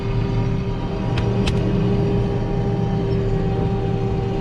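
A vehicle pulling into a farm driveway, its engine giving a steady low rumble and hum close by, with a couple of faint clicks over the constant drone.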